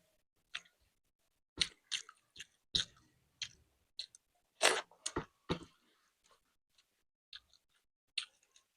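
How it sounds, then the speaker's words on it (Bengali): Close, quiet mouth sounds of someone eating spicy masala boiled egg curry with basmati pulao in an eating challenge: irregular wet clicks and smacks of chewing, with short pauses between bites. "তো এই যে ও খাচ্ছে"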